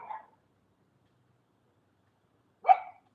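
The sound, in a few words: dog barking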